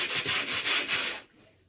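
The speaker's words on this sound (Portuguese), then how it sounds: "eu dou um acabamento na lixa" Hand sanding of a cement pot with sandpaper: four or five loud, rhythmic rasping strokes up close, then the scraping stops and only quiet room tone remains.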